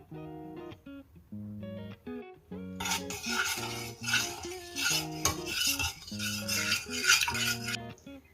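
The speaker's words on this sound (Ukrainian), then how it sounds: "Перчику і лаврушки. Розмішуємо." A spoon stirs a pot of sauce for stuffed zucchini, seasoned with pepper and bay leaf, with steady scraping and swishing for several seconds over a tonal background.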